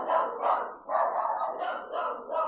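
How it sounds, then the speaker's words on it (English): Dogs bark in a steady string of quick yaps, several in a row with short gaps, moderately close and clear with no talk over them. "Man, the dogs are really on one today, huh?"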